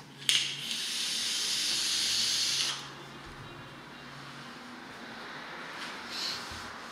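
Loud, steady vapor hiss from a vape dripper atomizer running at 50 watts with dual coils, a single continuous draw of about two and a half seconds, then quieter background and a faint second puff.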